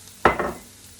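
Garlic goes into a hot pan and sets off a sudden loud burst of sizzling, close by, which fades within about half a second, with no talking.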